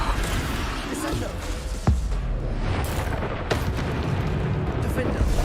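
Descendo spell cast in the Hogwarts Legacy video game, heard as a sudden deep boom and thud around two seconds, with a second sharp burst later over a dense, continuous rumbling game soundscape.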